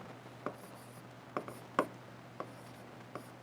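Chalk or marker strokes on a board during a math lecture, a handful of short, sharp taps and scratches spaced irregularly over a steady background hum.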